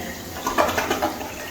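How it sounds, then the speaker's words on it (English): A toilet flushing in a remodeled 1800s bathroom with new drain plumbing, a brief close rush of water lasting under two seconds, heard alone. "let's see how good a flush we got"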